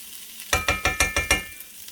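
Corned beef hash being stirred in a hot pan, with six quick, regular scraping strokes over a soft sizzle; loud and close, with no talking.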